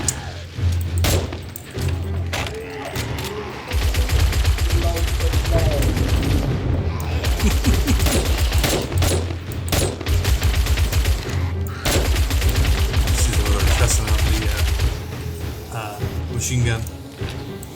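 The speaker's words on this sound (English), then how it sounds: "Machine gun." Machine gun fire rips through a 7 Days to Die game session in long, loud, rapid bursts, broken by short pauses and carrying on for most of the stretch, with some talk alongside.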